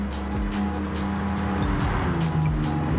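A Lamborghini racing at Le Mans in Gran Turismo 7 during a classic car handicap race, its engine note rising and shifting with squealing tires, loud and close, no voices.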